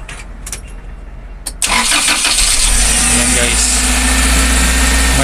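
A Toyota car engine cranks with a few short clicks and bursts, then catches and settles into a loud, steady idle that runs to the end with someone speaking nearby.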